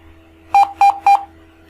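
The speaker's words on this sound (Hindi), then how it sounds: "रन किया तो 3 टाइम बीप की आवाज़ सुनाई दी है, जो सिस्टम में स्पीकर होते हैं सिस्टम के वहाँ से।" A computer system speaker gives three short, identical electronic beeps from a C++ \a escape sequence, evenly spaced and clear over a faint background hum, with no talking.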